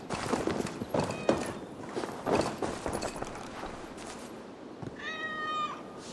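A cat in Assassin's Creed Valhalla lets out one clear, drawn-out meow near the end, after a stretch of clip-clopping hooves and footsteps.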